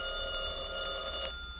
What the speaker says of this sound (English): Answer the phone, Mary.